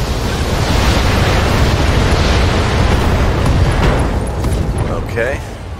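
Mech weapons fire and strike a target in the BattleTech video game, a loud, dense rumbling barrage of blasts sustained throughout, easing slightly near the end, with a few brief higher tones late on.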